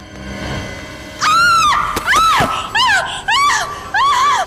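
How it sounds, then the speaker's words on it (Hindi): A woman screams loudly and close, in five piercing bursts separated by brief gaps, each wavering in pitch, with faint background noise before the first. "क्यों चिल्ला रही हो?"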